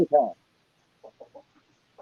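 A pet chicken at a country homestead gives a loud opening cluck, then a short series of softer, clipped clucks after a pause, close by with no talk.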